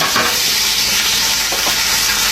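Pork steak sizzles loudly and steadily on a hot plate, a close, continuous frying hiss with brief bursts of crackle and stirring, no voices.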